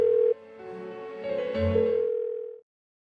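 A phone rings unanswered in the video game Persona 4 Golden: a short electronic ringing tone with steady pitched notes that swell and then cut off after a few seconds, with no voices.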